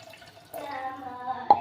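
Coconut milk poured into a pot while cooking coconut rice, a soft steady liquid trickle with a small splash or drip near the end, close and alone.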